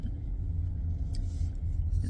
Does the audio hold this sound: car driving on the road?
yes